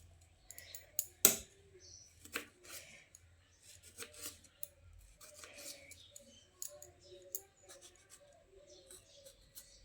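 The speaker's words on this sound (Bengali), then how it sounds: "টমেটোটাকেও একটু লম্বা লম্বা করে ফালি করে কেটে নেব।" A kitchen knife slices a tomato lengthwise into long strips on a cutting board, giving quiet, irregular taps and clicks spread over several seconds, one sharper knock early on, in a fairly hushed room.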